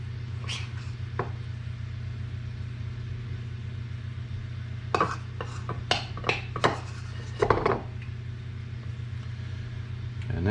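A spoon stirs cocoa for chocolate gravy in a pan on a stovetop, giving a short run of scraping, clinking metal strokes in the middle of the clip over a steady low hum, with no talk.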